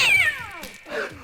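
A small cat in the video game Guild Wars 2 gives two clear meows, a loud drawn-out falling call followed by a shorter softer one, close and alone with no talk.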